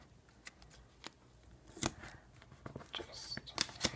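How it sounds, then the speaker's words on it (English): Tape being pulled and stuck across the bottom of a paper craft bird, short crinkly rips and sticky pulls in irregular bursts, close and soft, with a quiet voice now and then. "So I'm just taping it across the bottom."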